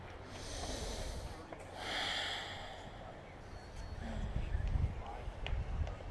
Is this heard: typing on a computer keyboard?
no